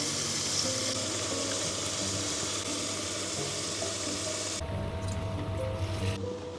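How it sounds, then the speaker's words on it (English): Vegetables sizzle steadily in a pan inside a camper van on an Arctic winter trip, a dense continuous frying hiss that drops in level near the end. "Veg is in, just going to fry that off"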